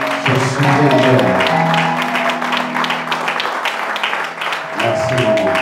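A church youth conference audience applauds loudly and continuously, dense close clapping sustained throughout with a tonal murmur of voices or music beneath.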